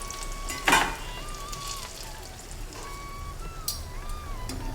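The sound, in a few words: banana flower vada frying in oil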